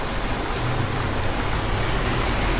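Hail pelts down on standing farm crops in a field, a dense, steady roar of countless impacts with no break, loud and close.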